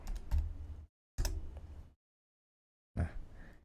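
Bursts of close computer keyboard typing while entering input into a Python program, three short clusters of rapid clicks separated by silent pauses.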